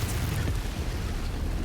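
A destroyed mech blowing up in the Mechwarrior 5 video game: a dense, continuous roaring rumble, heavy in the low end, sustained throughout without pause.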